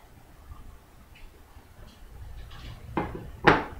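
Small potato pieces are dropped into a small casserole dish in a home kitchen, with soft handling noises building to two distinct clunks against the dish near the end, no talking.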